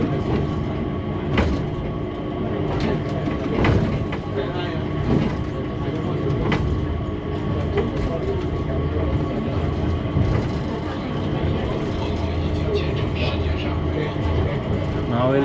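Singapore airport Skytrain runs along an elevated track with a steady rolling rumble and intermittent clunks and whines over about fifteen seconds, fairly close, with a few muffled voices in the background.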